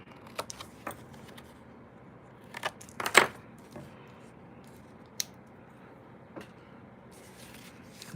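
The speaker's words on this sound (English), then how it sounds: "let's cut our bat wings off of our card here" Scissors snip bat-wing shapes out of a piece of card for a jar craft, with a few scattered close cuts and rustles and one louder snip near the middle, then quiet handling noises.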